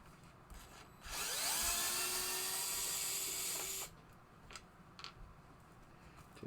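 A power screwdriver whirs steadily for about three seconds, backing odd screws out of a 1974 Gottlieb Captain Card pinball playfield during a teardown, followed by a few faint clicks and taps.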